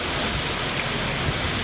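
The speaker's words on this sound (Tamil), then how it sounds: "விருதுநகர் மாவட்டத்தில் சாத்தூர், இருக்கன்குடி, வெங்கடாச்சலபுரம், மேட்டமலை உள்ளிட்ட பகுதிகளில் பெய்த மழையால் குளுமையான சூழல் உருவானது." Steady rain falls across towns of Virudhunagar district such as Sattur and Irukkangudi, a dense, even hiss of water that holds a constant level throughout, with no voices.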